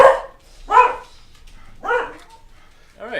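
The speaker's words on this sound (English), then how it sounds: "dogs are going crazy" Dogs barking in several separate bursts, each a short cluster of loud barks with pauses between, fairly close and alone without talk.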